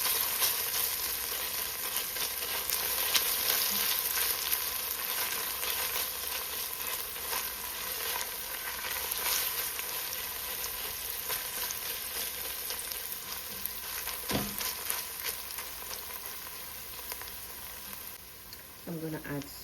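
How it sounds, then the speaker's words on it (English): Tomato paste sizzling in a frying pan while cooking Jamaican spaghetti and saltfish, a steady close crackling fry that holds for the whole stretch, with occasional stirring clatter. "I'm going to add some tomato paste to that."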